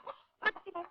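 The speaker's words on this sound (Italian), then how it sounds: "Ci manca pure la gallina dentro casa" A hen clucking indoors inside a house, in a 1950s Italian film scene: a few short, close clucks with a brief pause between them, and no talk over them.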